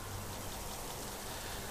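Steady, soft rain hiss from the video game The Mims Beginning, a uniform wash of falling drops with no other sounds.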